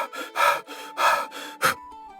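A man out of breath after running pants close up, with four heavy breathy gasps in quick succession, the last one short and sharp.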